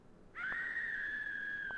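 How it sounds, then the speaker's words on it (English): High, sustained scream from outside in the PS1 game Clock Tower, starting abruptly and holding a steady shrill tone for over a second, fairly clear against a quiet background with no talking. "A scream is heard from outside."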